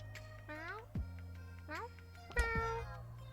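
A street cat in the Boyfriend Dungeon video game lets out three short, rising meows, faint and set against a low steady hum of game background.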